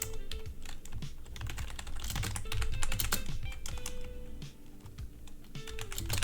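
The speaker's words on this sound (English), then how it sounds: "You might wonder why I'm typing right now." Rapid, continuous typing on a computer keyboard, with dense clicking keystrokes close up and no voices.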